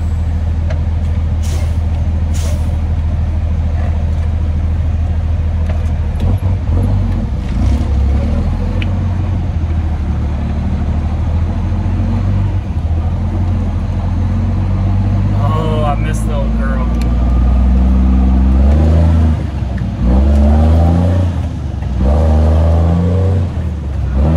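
A truck engine rumbling and building revs as it accelerates down the road, a heavy, close drone with rising gear sweeps later on, while someone talks over it.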